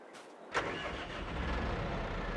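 Tractor engine in Farming Simulator 22 starting after a brief quiet moment: a short starter burst, then the motor catching and settling into a steady low rumbling idle.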